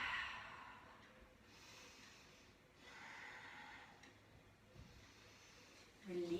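Slow, soft breaths drawn in and let out during a seated yoga twist in a dynamic vinyasa class, three gentle rushing cycles, faint and close in a quiet room.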